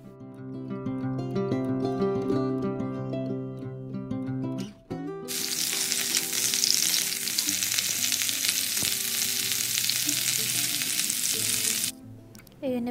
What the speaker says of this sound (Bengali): ফুলকপিগুলো দিয়ে এপাশ ওপাশ ভালো করে উল্টে পাল্টে 2-4 মিনিটের মতো ভেজে নিব